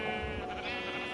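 An orange sheep in Minecraft gives a single wavering bleat, fairly quiet, over a faint steady background.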